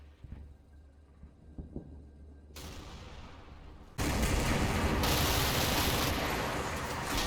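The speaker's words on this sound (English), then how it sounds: "In the north, I call in harassing mortar fire." Harassing mortar fire in the World War II game Combat Mission, Kampfgruppe Peiper scenario: scattered distant thumps give way to a loud, dense wall of rumbling explosions and battle noise that holds steady to the end.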